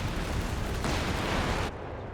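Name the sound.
Walking Stuka artillery barrage in Company of Heroes 3 video game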